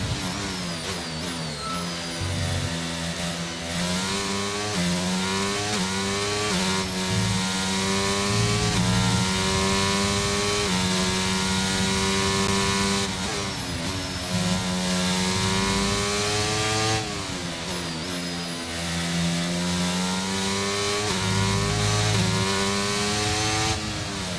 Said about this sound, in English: Very wide through turn 1, accelerating out on the AstroTurf.